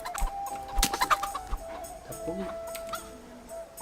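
A chicken clucks in the medieval video game Kingdom Come: Deliverance, a few short clucks near the start, over quiet game ambience and a faint tonal hum.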